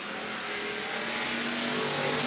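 A sportsman-class race car at Willamette Speedway drifts high through turn four, its engine droning steadily and loudly with a continuous roar and no speech.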